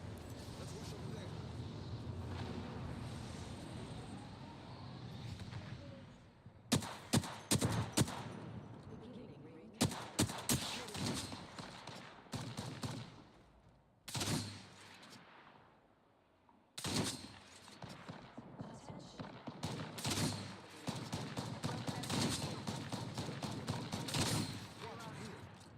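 Gunfire in the video game Apex Legends: rapid automatic bursts and repeated shot volleys crack loudly in several clusters, mixed with game ambience, while a player talks throughout.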